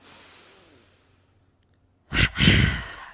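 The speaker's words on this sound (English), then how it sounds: "Gonna take about 3 energizing breaths. Again, double inhale through the nostrils. Double exhale through the mouth." Two forceful, close mouth exhales in quick succession during an energizing yoga breathing exercise, loud breathy bursts following a fainter stretch of breathing and a silent pause.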